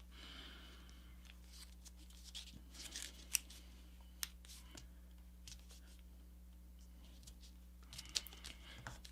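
A paper airplane being folded, with soft, sparse crinkles, taps and creases of paper close by over a steady low hum, quiet and intermittent with a few sharper clicks.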